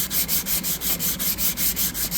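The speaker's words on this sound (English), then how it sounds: "I'm going to sand in a cross hatch" Hand sanding of epoxy primer on the body panel of a 1969 VW Bus in a cross-hatch pattern, a steady rhythmic rasp of about ten even strokes, close and fairly loud, with no voices.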